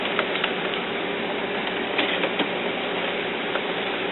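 An HP Photosmart printer carriage is pushed across by hand, giving a steady mechanical rattling whir with faint clicks throughout, close and fairly loud, with no talk.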